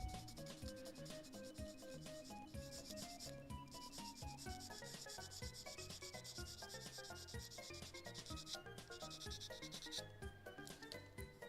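Steady, quiet rubbing of sandpaper on a small Gundam model kit part, continuous light scratching strokes sitting under a bed of soft background music.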